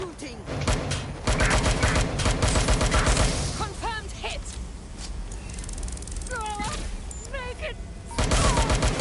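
Rapid gunfire crackles in dense bursts with short pauses, close and loud, while high, bending voice-like cries rise over the shots.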